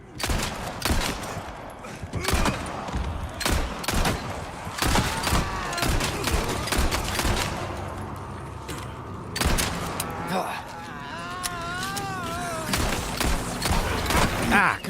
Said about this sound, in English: my friends are about to meet my grenades